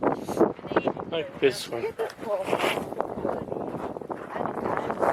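Gusty wind buffets the microphone near the summit of Vesuvius, with rough low-frequency rumbles under a man's close, brief speech.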